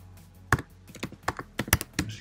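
Keys tapped on a computer keyboard while entering a web address into a pop-up editor, a quick uneven run of close, crisp clicks with a few heavier thunks, no voice.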